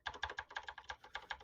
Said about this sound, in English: he's hammering that keyboard